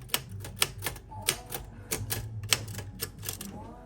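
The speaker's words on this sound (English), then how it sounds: "there's a typewriter here" An old typewriter in a bookshop being typed on, with a series of irregular sharp key clacks, fairly close but soft, over a quiet room hum.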